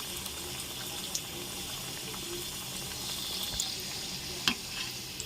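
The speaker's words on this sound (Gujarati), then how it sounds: "આપણું તેલ અહીંયા ગરમ થઈ ગયું છે. આપણે એને તળી લઈશું." Potato samosas fry in hot oil with a steady, dense sizzle and crackle throughout, one or two soft clicks against the pan, no talking.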